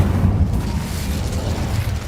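The Incendio fire spell in Hogwarts Legacy bursts out as a loud, roaring whoosh of flame that flares sharply and rumbles on briefly.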